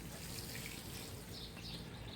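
Plants in a greenhouse being watered, a steady, dense hiss of spraying water running without a break, close and fairly quiet, no talking.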